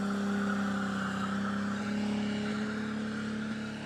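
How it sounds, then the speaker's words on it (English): Tires squeal and skid as a car does a burnout at a Sydney drag and burnout night, a loud sustained screech over a droning engine, with no talk. "Good to see the ladies out having a skid tonight here at Aeroflow Race for real"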